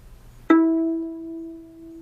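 A single violin note, E played on the D string, starts sharply and sustains steadily for over a second, fading gently, alone in quiet.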